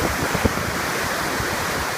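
River rapids on the New River in West Virginia pouring over a ledge drop into a big hole, a constant broadband roar of rushing water with some wind buffeting on the microphone.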